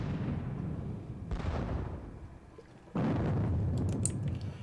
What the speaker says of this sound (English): I am going to blast these guns here.